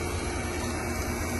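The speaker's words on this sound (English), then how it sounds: "Got the old vacuum going" Steady, even hum and whoosh of a vacuum pump running on an air conditioning system during a Trane repair, constant broadband drone with no change or pauses.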